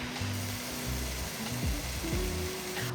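Vegetables fry in a covered pan with maple syrup and sauce, giving a steady close sizzle with low tonal hum and faint stirring clatter underneath, no talking.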